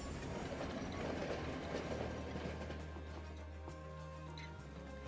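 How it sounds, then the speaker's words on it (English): Train rumbling in the video game Monster Train 2, a steady low mechanical drone with faint clanking and ratcheting textures that continues evenly. "The train rumbles!"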